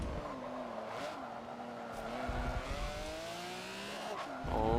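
A Ferrari race car in Forza 7 racing in R class, its engine whining and shifting through gears in rising tones with tire squeal, close and steady, with another car joining at the end.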